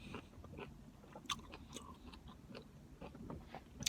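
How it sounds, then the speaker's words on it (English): Someone bites into an orange, with close, faint crunchy bites and moist chewing that come in irregular bursts. "And I'm gonna take a bite"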